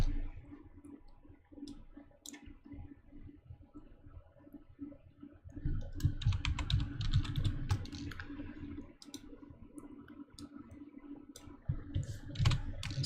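Keys clatter on a computer keyboard as text is typed in, a steady patter of close clicks that grows busier midway, alone without talk.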